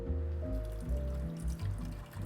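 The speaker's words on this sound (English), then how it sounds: "Just leave the water running for a little bit" Cold tap water runs steadily over a frozen chicken to thaw it, making a continuous close splashing stream with slight shifts in tone as the flow hits the meat.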